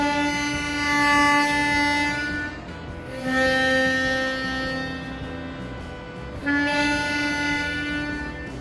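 A harmonica playing a drawn D note: three long, steady reedy tones with bright overtones, each swelling in and fading with the breath, played close and alone.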